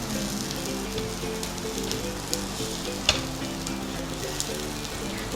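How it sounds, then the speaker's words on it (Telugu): Rajma burger patty mixture frying in a pan, a steady close sizzle and crackle with a few sharper pops, continuous and alone. "ఈ మాదిరిగా మనం వేయించుకుంటున్నాం."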